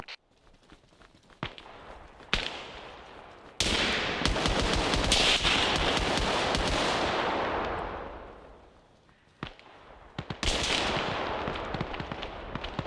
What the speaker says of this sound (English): What are you shooting at there, Morrow?